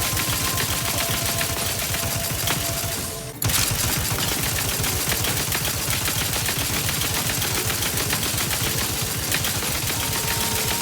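Rapid, rhythmic automatic gunfire from The Outer Worlds 2, a sustained rattling burst that runs almost the whole time, dropping out briefly once before resuming, loud and close with no talk.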